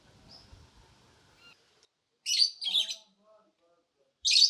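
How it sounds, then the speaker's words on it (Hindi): Colourful pet birds kept inside a dargah give short bright chirps in two bursts, close and fairly loud, after a stretch of faint background noise. "ये देखो भैया रंग बिरंगी चिड़िया पाली गई है"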